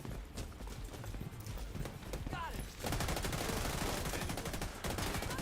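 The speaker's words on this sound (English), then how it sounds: "These guys shooting at me." Enemy gunfire in the shooter game The Division 2, rapid cracking bursts and automatic fire rattling in quick succession, denser and louder in the second half, over a low background rumble.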